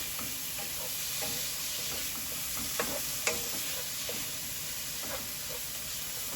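Aromatics frying in a pan before mushrooms go in, a steady broad hiss of sizzling with a few faint stirring knocks and clicks, close and continuous, no voices.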